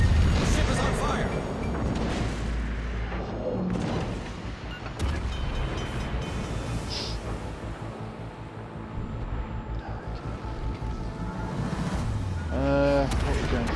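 Heavy booms and rumbling impacts hit a battleship under fire in a naval battle video game, coming dense and loud, one on top of another. Speech runs underneath throughout.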